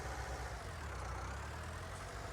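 A farm tractor with a light rear end chugs along a trail on a small farm in Skrzyszów, its low engine drone steady and faint with no voices.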